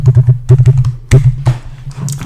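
Close, loud typing on a computer keyboard as a password is entered, with quick bursts of key taps, a brief pause, then a few more keystrokes.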